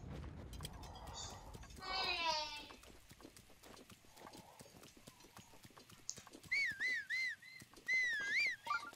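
Whistling to call a horse in the video game The Legend of Zelda: Breath of the Wild: two close, loud, wavering whistled phrases near the end, with clip-clopping hooves and other game sounds earlier.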